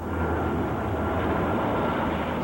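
A 135,000-pound firefighting air tanker plane flies over a Malibu wildfire with a continuous, fairly distant engine roar that stays steady and unbroken throughout.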